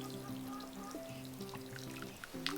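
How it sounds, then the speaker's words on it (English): Water is poured at the base of freshly transplanted tomato plants and into a small moat-like well around each one, a soft steady trickle close by over a faint tonal hum. "We're watering at the base. And I'm watering also in the little well"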